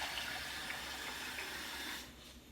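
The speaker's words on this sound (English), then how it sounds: "let me get some water for the barley" Tap water runs steadily into a bowl of rinsed barley, a continuous moderate splashing rush that eases off near the end, close by and with no voices.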